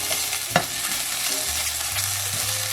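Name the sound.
garlic ginger paste frying in oil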